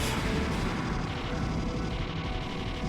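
Dense, continuous shooting fills the moment in the shoot-'em-up Ikaruga, a loud wall of rapid blasts and crashing impacts with no breaks, heard alone without talk.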